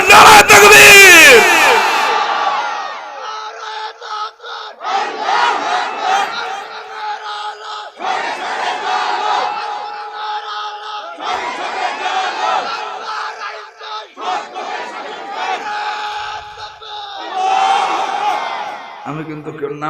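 A crowd at a Bangla Islamic religious gathering shouts takbir in unison, loud repeated bursts of massed voices answering a leader's call, each swell rising and dropping in roughly rhythmic waves.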